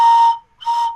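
A panflute sounds two short airy notes with a hollow, breathy tone from a downward bend, with a brief gap between them, loud and close with no voices.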